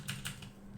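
A short burst of typing on a computer keyboard, a few quick soft key clicks close by in a quiet room.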